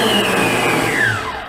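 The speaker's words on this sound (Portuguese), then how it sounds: "Vou usar aqui a batedeira planetária" A planetary stand mixer beats butter until creamy, giving a loud, steady motor whir with a slowly falling pitch, running alone without talk.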